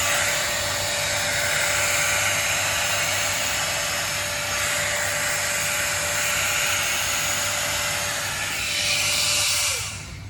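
A Dyson Airwrap dupe hot-air smoothing hair brush runs continuously, a loud, steady whooshing blower with a constant motor whine, cutting off abruptly near the end with no talking.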